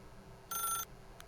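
Telephone in The Stanley Parable video game rings once in a short electronic trill, followed by a faint second chirp, over a quiet background.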